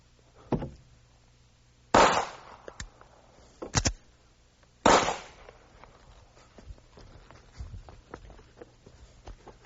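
Several sharp gunshot-like bangs ring out during a police shooting scenario, with two loud reports close together, another after a pause and a fourth louder one, followed by scattered thuds and shuffling.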